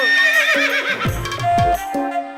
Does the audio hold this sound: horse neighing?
yes